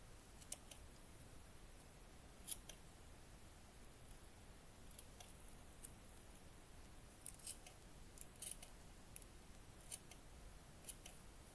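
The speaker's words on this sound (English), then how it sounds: "using my paper scissor that I shouldn't use for this one, but the other one won't cut right now" Paper scissors snipping small pieces for a miniature cat cafe garden room box, quick faint clicks in scattered bursts against quiet room noise, no talking.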